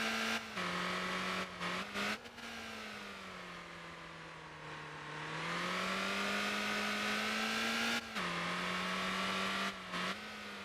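Engine braking in the Motor Town driving game: a steady, loud car engine drone that drops and rises in pitch as revs fall and pick up, with brief gear-shift dips, no talk.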